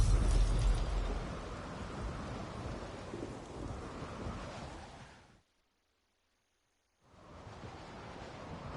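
Thunderstorm in The Witcher 3, a heavy rumble of thunder and dense rain loud at first, cutting to silence for a moment before the storm noise returns.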